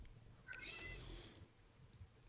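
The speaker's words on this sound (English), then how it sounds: "Your cat yelling in the background" A cat yowls in the background, a drawn-out rising meow heard faintly through soft room noise, with a couple of tiny chirps afterward and no voices.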